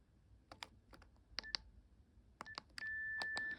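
Buttons on a BT 6600 cordless phone are pressed to switch off call screening, giving a sequence of short clicks and beeps followed by a longer steady confirmation tone, all quiet and close.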